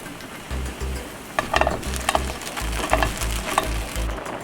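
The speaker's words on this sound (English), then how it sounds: "I'm just gonna cook both sides of the bread on a little skillet" Bread sizzles in a small skillet, crackling steadily close by, while occasional scrapes and taps from turning and flipping the slices rise above the frying hiss.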